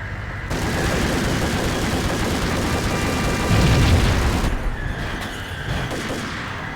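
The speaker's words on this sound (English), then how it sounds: "Shotguns only strong when the enemies use them really." Shotgun fire in the Max Payne video game, with dense, continuous gunfire and booming blasts that swell around the middle and then ease, loud and close throughout.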